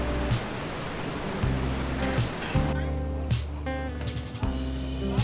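A river rushes steadily through a Himalayan valley in Nepal, a tributary of the Kosi on the trail toward Namche Bazaar, its broad continuous roar filling the scene with no voices.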